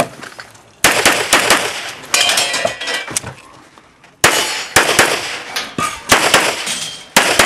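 Rapid string of loud, sharp gunshots with metallic clangs from steel targets at a shooting stage, fired in two fast bursts separated by a brief pause, close and dominant.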